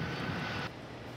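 An Airbus 310 lands at Belfast International Airport with a loud, broad engine roar that drops suddenly in brightness partway through, steady and with no voices.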